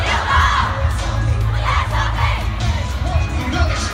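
An American concert crowd chants in unison at a show, a loud, dense mass of voices shouting rhythmically and continuously throughout.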